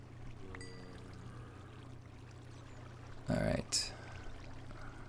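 Water poured from a bucket in Minecraft, a short broadband splash-like rush lasting about a third of a second, followed by a second brief burst, over a steady low background hum.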